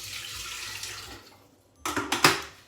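Water runs from a kitchen tap in a steady rushing stream, then breaks into a few sharper splashing bursts as it fills a container, close and fairly loud with no talk.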